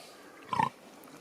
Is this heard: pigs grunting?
yes